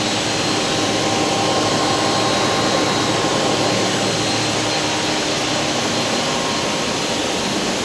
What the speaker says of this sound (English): here on this machine, we make it clean, we make the inner housing and the thread inside here